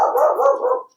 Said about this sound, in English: And 2 cute little dogs that maybe you can hear.